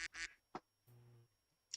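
Soundboard duck quack effect, several short nasal quacks in a quick uneven sequence, fairly quiet, with no talk over them.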